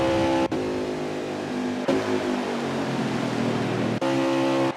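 Race car engine from a NASCAR-style racing video game at Talladega Super Speedway, a loud steady high-pitched drone with brief dropouts as a car spins near the checkered flag, no talk.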